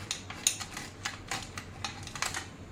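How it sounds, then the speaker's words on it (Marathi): Almonds, pistachios and cashews cut thin with a small hand slicer, giving a run of quick, light clicking and scraping taps, close and fairly faint, with no talking. "त्या स्लायसरने असं कट करून घ्यायचं म्हणजे छान पातळ काप होतात"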